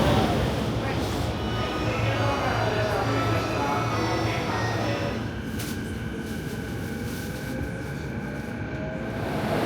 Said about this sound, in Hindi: अभी अनाउंसमेंट हो रहा है कि जो ट्रेन है वो 5 मिनट डिले हो चुकी है